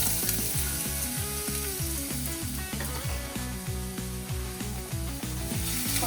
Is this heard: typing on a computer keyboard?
no